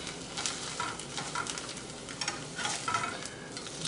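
An egg fries in a pan with a steady, crackling sizzle, close and continuous, with brief louder spits of popping fat and no talking.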